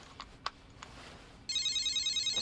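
A cell phone starts ringing after a few faint clicks, with a continuous electronic ringtone trill at moderate loudness.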